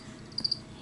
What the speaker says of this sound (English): I'm going to offer her a cricket.